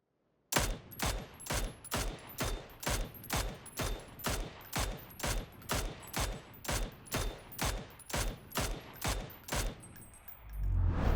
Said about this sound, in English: that's 20 bullets fired from both weapons